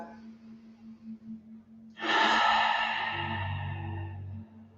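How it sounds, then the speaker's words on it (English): A single long, deep inhale followed by slow breathing during an at-home live-streamed yoga class, close and fairly loud over a low steady hum, with no talking. "Breathing deeply there."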